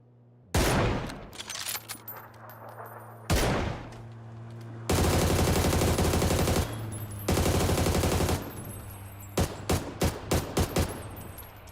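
Bursts of automatic gunfire in the video game PUBG, several long sustained volleys and short rapid strings of shots, loud and close, separated by brief pauses, with no talking over them.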